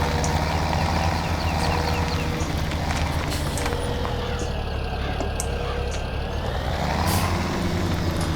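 A farm truck towing a trailer maneuvers into a parking spot in Farming Simulator 17, its engine droning steadily and loud throughout, with hissing air-brake and mechanical noises over the top.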